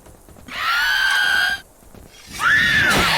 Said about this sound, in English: you do a whole lot of screaming